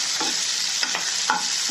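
Thick green chilies cut into three pieces fry in a pan for soya bean biryani, a bright continuous sizzle broken by three scraping stirs.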